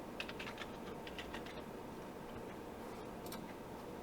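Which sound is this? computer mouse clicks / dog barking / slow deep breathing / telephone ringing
computer mouse clicks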